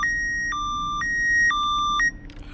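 A Honda S2000 car alarm notification chirps as a steady two-tone beep, high and low pitches alternating every half second for about two seconds before cutting off.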